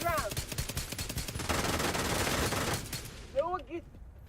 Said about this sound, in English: I was gonna kill this one with a pistol